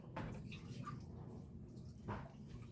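Tap water running into a basin for washing the face, a quiet close splash and trickle with two brief louder gushes, alone without talking.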